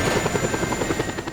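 Helicopters in the video game Just Cause 2, a steady rapid rotor chop with a pulsing beat and a high whine, close and continuous, without talk.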